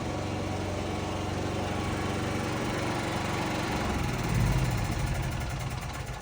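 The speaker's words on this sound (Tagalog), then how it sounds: "And then, mamamatay dapat yung ating generator." A Philking PK8000i automatic generator engine runs steadily and loudly up close, with a brief surge before the drone begins to drop away as it shuts down.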